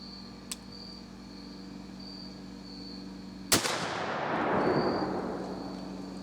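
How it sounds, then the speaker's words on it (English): A single loud crack from a T/C Hawken muzzleloader rifle firing a hunting load outdoors, followed by a long rolling echo that fades over a few seconds, with crickets chirping in the background. "So let me go ahead and take the first shot here."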